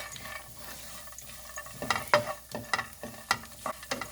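Dry grapes frying in a pan while carrot halwa is made, with a soft continuous sizzle broken by sharp crackles and stirring scrapes that grow busier toward the end.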